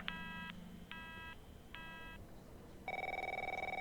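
A phone rings in the video game The Operator: three short electronic ring bursts with pauses, then a steadier tone, close and clear with no talking.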